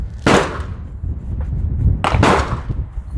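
Two sharp rifle shots crack at an outdoor shooting range, the second about two seconds after the first, both somewhat distant over steady background rumble.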